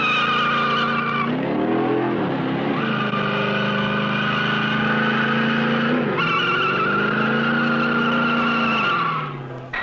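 A Turbo Titan 3 truck with a multi-fuel turbine engine and six-speed automatic transmission crawls over a rough rock test course, its steady high turbine whine rising and dipping as it strains, loud and close throughout.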